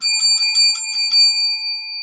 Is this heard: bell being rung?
yes